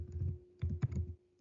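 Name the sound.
typing on a computer keyboard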